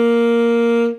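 A single sustained saxophone note G from a beginner's lesson, a steady clear tone held for about a second, then fading out, played alone with no talk.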